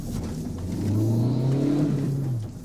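An unregistered motorcycle revs up, its engine note rising and holding in a strong, steady drone before easing off, heard fairly close on a street.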